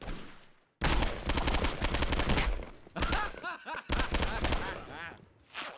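Rapid video-game gunfire from pistols and assault rifles, dense bursts of automatic shots in several close volleys with short gaps, mixed with voices talking.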